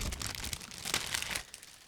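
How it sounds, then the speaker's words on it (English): Plastic bag around a Meng 1/24 Audi R8 LMS GT3 2019 model kit's sprues being opened, a close, steady crinkling and rustling that fades toward the end. "And now I'm opening another plastic bag"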